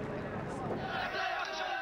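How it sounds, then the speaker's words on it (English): An angry crowd gathered outside an Iraqi governor's offices shouts and chants, a dense roaring mass of voices with rising cries, loud and sustained throughout. "An early challenge came when an angry crowd gathered outside the offices of the Iraqi governor he'd just appointed."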